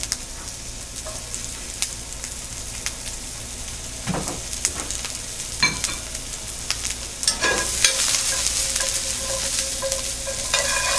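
Raw potatoes and red pearl onions frying in a pan, a continuous soft sizzle broken by scattered scraping and stirring clatters, growing slightly louder and busier toward the end; no talking.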